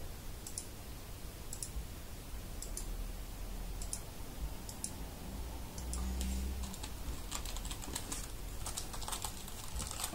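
Keys tapped on a Raspberry Pi computer keyboard, a steady run of light clicks at close range with no talking.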